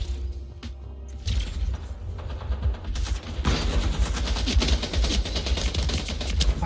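Video game gunfire rattles in rapid bursts from an automatic weapon, loud and dense, building into near-continuous shooting with layered distant shots and mechanical clatter.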